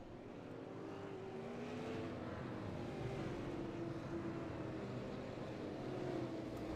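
Field of race cars rolling slowly around the Stafford short track before a Stafford Late Model Series green flag, a steady low engine drone at a distance with no talk.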